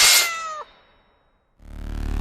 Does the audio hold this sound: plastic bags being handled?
no